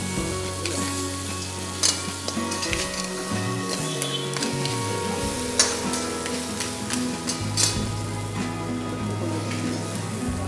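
Tomatoes frying in a pan of crab masala, a steady close sizzle with intermittent stirring scrapes and squishy pops over a low kitchen hum, no voices.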